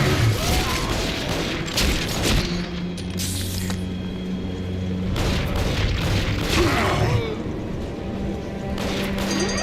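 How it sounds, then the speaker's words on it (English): Gunfire in a video game shootout near a base elevator, a series of booming shots and bursts, some overlapping, over a continuous noisy game soundscape. "After I shoot these guys."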